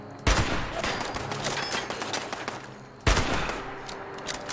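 Gunfire in the Fallout 76 video game: two loud bursts of rapid shots, each starting with a sharp crack and trailing into a rattling volley with echo, the second burst arriving about three seconds after the first.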